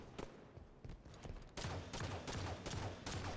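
Rapid bursts of video game gunfire, a few scattered shots giving way to a dense, loud, continuous volley in the second half, with no break between rounds.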